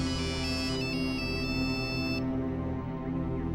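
A cell phone rings with a bright, electronic melodic ringtone, stepping through pitches for a couple of seconds before cutting off, leaving a low steady background hum.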